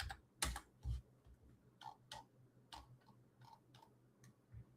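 Rapid keystrokes clatter on a computer keyboard as code is written, an irregular run of close, crisp clicks with short pauses between bursts and no talking.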